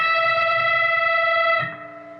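On a distorted electric guitar, the 15th fret of the B string is bent a full step in a solo: one long, saturated sustained note, close and loud, dropping off near the end.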